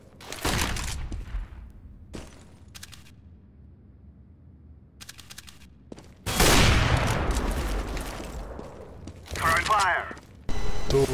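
Gunfire in a competitive shooter match: sharp bursts and single cracking shots come in clusters, loud and close at times, while a player talks over the action in Polish.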